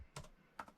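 Keystrokes on a Logitech Combo Touch keyboard come as soft, quiet clusters of taps, two short bursts separated by a brief pause, close and muted.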